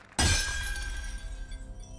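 Mask shattering in the video game Library of Ruina: one sudden loud glassy crash that bursts out and rings down into a sparkling, fading decay.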